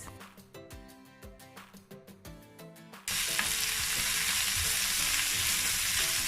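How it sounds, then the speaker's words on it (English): Green, red and yellow bell peppers hit a hot pan with a loud, steady sizzle, after a few seconds of clattering stirring that gives way to continuous close frying with occasional scrapes. "At this time, I'm going to add the peppers. I'll start with the green, red, then yellow."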